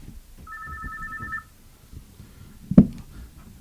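An incoming call to a phone line gives a single short electronic ring tone, followed by a brief clunk like a handset being picked up, in a quiet room.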